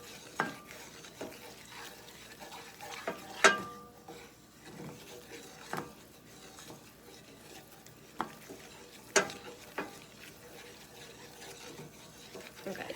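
Brown butter scrambled eggs being stirred in a pan with a utensil, producing a steady soft scraping with a faint sizzle underneath and several sharper clicks and scrapes against the pan.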